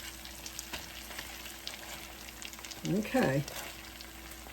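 Keto chicken patties fry quietly in a pan, a faint continuous sizzle under room tone, briefly interrupted by a short spoken word.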